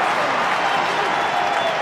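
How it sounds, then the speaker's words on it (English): Large rugby stadium crowd at an Edinburgh versus Harlequins Challenge Cup match roaring and applauding after a try, a dense, steady wash of cheering. "And the crowd celebrates"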